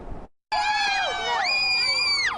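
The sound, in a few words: family members screaming and cheering outside courthouse at indictment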